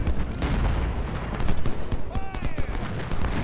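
Gunfire in the Civil War strategy game Ultimate General: Civil War, scattered musket and artillery cracks and booms over a dense battle din, with a commentator talking throughout.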